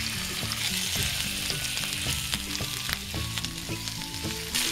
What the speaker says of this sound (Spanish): Una vez que esté el aceite caliente, pondremos el calamar con la parte de las aletas para arriba.